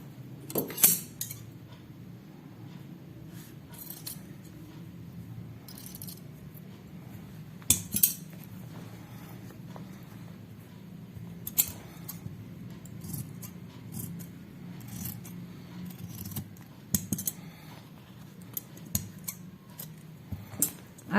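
Scissors snip away the extra fabric from a stitched skirt waistband, giving a string of close, faint metallic clicks and crisp cuts at an uneven pace over a low steady background hum.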